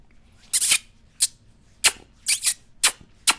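Women walking by on a Ljubljana street, their footsteps landing as sharp, bright clicks in an uneven rhythm, about seven steps, close and crisp over a quiet background.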